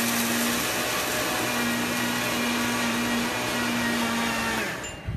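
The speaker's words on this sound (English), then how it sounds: "especially using a high-powered blender like this" High-powered blender pulverizing flax seeds, a loud steady whirring roar with a sustained motor drone that cuts off near the end, with a brief spoken remark over it.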